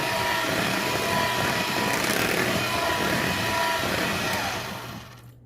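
An electric hand mixer whirs steadily at high speed, blending vanilla into box cake batter in a kitchen, a continuous loud motor drone that stops abruptly near the end.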